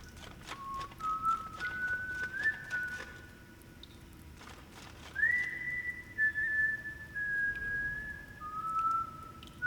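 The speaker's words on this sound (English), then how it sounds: "To anybody who has ever wondered whether rats can whistle, now you know." A rat character whistles a wandering, sliding tune in the video game Ghost of a Tale, clear and moderately loud over faint footsteps and ambient rustle, with a pause between two phrases.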